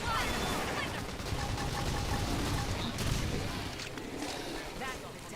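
Rapid bursts of gunfire in a battle in Xenoblade Chronicles X: Definitive Edition on Switch, a dense sustained barrage mixed with combat effects and a voice calling out.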